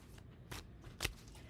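Tarot cards being shuffled by hand in a quiet room, a few soft riffling bursts with short pauses, fairly faint.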